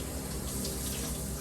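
Running water splashing while a face scrub is washed off, a steady close hiss with no talking.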